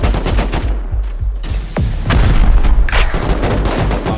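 An automated turret fires during a raid in the video game Rust, loud rapid bursts of gunfire with repeated sharp shots and booms, close and continuous throughout.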